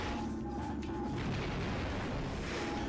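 Tetra bomb gun from Ratchet and Clank: Going Commando fires with dense, booming explosive bursts, loud and continuous over a crowded game soundscape.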